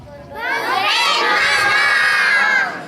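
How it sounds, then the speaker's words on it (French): A crowd of children at a gala shout together in one loud, sustained cheer. Their voices swell in quickly and hold for a couple of seconds before dropping off. "on va crier tous ensemble, les enfants, on va crier très fort."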